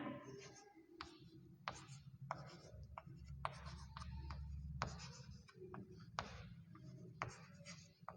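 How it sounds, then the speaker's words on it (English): Straight lines are drawn on a board during a maths lesson on lines and angles: a series of brisk scraping strokes in irregular bursts over a low background hum, with faint talk underneath. "Now see here if I draw a two straight line"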